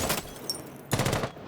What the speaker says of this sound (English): Monster gonna get shredded by the Zofia on the stairs of that LMG ripping